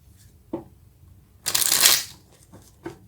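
Tarot cards shuffled in one loud riffling burst of about half a second, with a few soft card taps and handling sounds before and after, close up.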